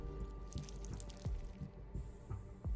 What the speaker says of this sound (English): I'll go and add some water.